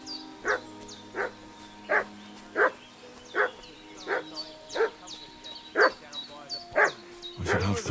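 A dog in the medieval role-playing game Kingdom Come: Deliverance 2 barks repeatedly at a steady rhythm, about a dozen evenly spaced barks from mid-distance over low ambient sound.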